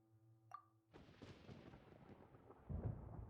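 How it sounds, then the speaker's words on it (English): Thunder in Genshin Impact, a short crack followed by a broad rolling rumble that swells louder near the end, heard alone with no talk. "Paimon hears thunder!"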